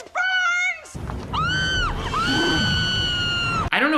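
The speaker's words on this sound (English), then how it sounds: "Anytime a woman screams in this movie, they go right up 8 octaves" A woman in a movie lets out a series of shrill, very high-pitched screams, some long and wavering, mixed with shouting and crowd-like noise at close, loud range.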